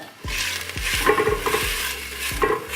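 Beef meatballs and onions cook in a pan over medium heat, with a soft sizzle underneath several distinct scraping and tapping stirs of a utensil against the pan, close by.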